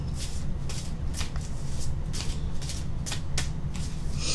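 Tarot cards riffle and slap through repeated shuffling, a steady run of crisp papery bursts roughly every half second, close and fairly loud with no talking.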